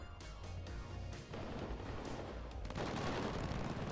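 Rapid machine gun bursts and heavy incoming gunfire in the WARNO war strategy game, dense and continuous with a rumbling low battle din throughout, growing louder toward the end.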